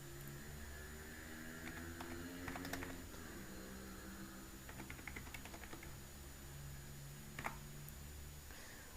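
Quiet, irregular clusters of keystrokes as an ID card number is typed on a computer keyboard, with short bursts of tapping separated by pauses over a faint steady electrical hum, and no voices.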